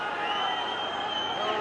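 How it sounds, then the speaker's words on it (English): A restless rugby league crowd murmurs and stirs in a steady, distant wash on the terraces during a Warrington versus Wakefield match, with no distinct cheers standing out. "Crowd getting a bit restless"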